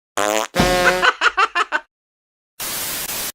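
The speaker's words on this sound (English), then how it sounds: "The more you fart, the better you feel." Loud, close fart noises: a couple of long buzzy blasts, then a quick stutter of short pops, a pause, and a final raspy hiss.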